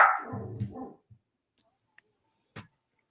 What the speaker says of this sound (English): The dog's got lots of opinions tonight.